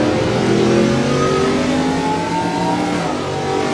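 Race car engines in a NASCAR Roblox video game race at Charlotte Motor Speedway's ROVAL, several cars droning and revving loudly together in a steady, dense layered roar with sliding pitch.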